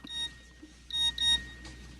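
A mobile phone text message alert sounds as a few short bright electronic beeps in separate bursts, close and clear over a quiet room.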